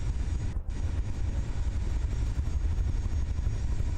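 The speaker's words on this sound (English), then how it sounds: "Reverse propeller planes are so cool." Propeller plane engines, including reverse propeller planes, in the game From the Depths, a dense steady roar that stays loud and unbroken throughout, with no talk.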